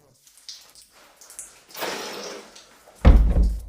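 An old door in an abandoned, intact house in the Belgian countryside being handled: soft clicks, a creaking scrape, then a loud thud as it shifts, close and otherwise quiet.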